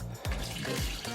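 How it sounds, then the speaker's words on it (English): Rinse water draining from a sink of freshly washed collard greens, a steady close rush and trickle of liquid with a couple of splashy surges, running continuously throughout. "I'm gonna drain the water."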